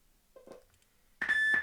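A timer gives a single sharp electronic beep that holds steady for about half a second after a short quiet with faint soft sounds.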